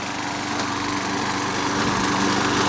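A Craftsman 6.75hp lawn mower runs steadily with its self-propelled drive engaged, a loud, continuous near engine drone in a suburban yard that grows slightly louder toward the end.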